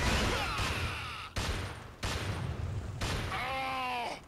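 Rapid bursts of gunfire in the Killzone video game, a series of loud sharp volleys with brief gaps, ending in a whining tonal effect as the player takes hits.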